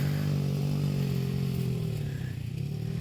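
A dirt bike engine drones loudly and steadily as it rides along a country trail, a close buzzing tone that eases slightly as the rider moves off, with no talking.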